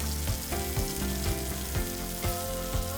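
Fish saltimbocca fries in hot oil in a pan, a close, steady sizzle with a low rhythmic thumping underneath, no talking.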